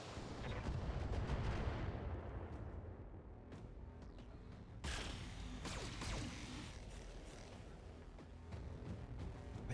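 BattleTech mechs firing weapons at several targets in a video game, heavy booming artillery-like blasts and rapid gunfire bursts in a dense, loud barrage, with sharp impacts punctuating a rumbling background.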